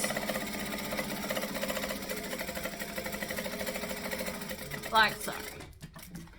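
A sewing machine basting around a fabric edge runs in a fast, steady mechanical whir with rhythmic stitching clatter, stopping near the end as a voice speaks briefly.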